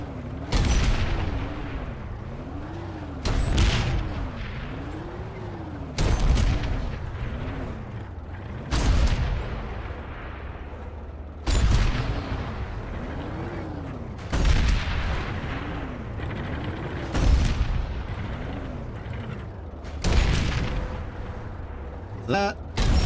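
Gunfire in the video game Planetside 2 comes as repeated heavy booming shots, roughly every two to three seconds, each followed by mechanical whirring between blasts.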